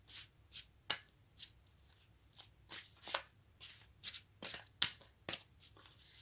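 Tarot cards being shuffled by hand, a run of about a dozen crisp riffling bursts at an irregular, quick rhythm, close and fairly quiet, with no voices.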